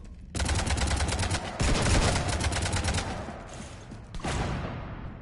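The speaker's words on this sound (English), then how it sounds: "You want to stop shooting up my ship?" Rapid bursts of gunfire pound a ship in the video game Mass Effect, with dense sustained volleys that pause briefly near the middle and again near the end, loud and close with no talk.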